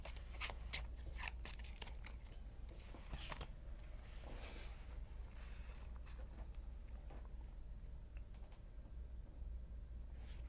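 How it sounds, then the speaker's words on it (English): A few playing cards being shuffled at a tabletop micro game session, with soft papery riffles and taps in quick irregular bursts, faint and close over a low steady background hum. "Shuffling that few cards is always a pain."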